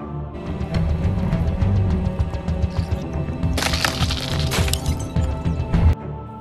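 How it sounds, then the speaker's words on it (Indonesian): Glass breaking under a small chemical explosive, heard as a rapid series of sharp cracks and crunching fragments over a dense low rumble, with a bright shattering burst near the middle, loud and close. "membuat bahan peledak kecil namun kuat yang dapat memecahkan kaca dan membuatnya tampak seperti pecah karena tekanan"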